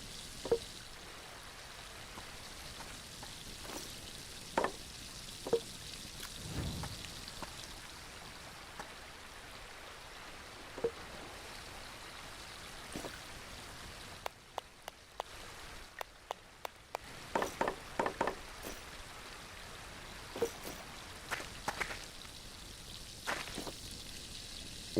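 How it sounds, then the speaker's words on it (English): A campfire burns in the survival video game The Last Plague: Blight, giving off a steady soft hiss scattered with sharp crackles and pops throughout, heard close with no voices. "Let's refuel the fire a little bit."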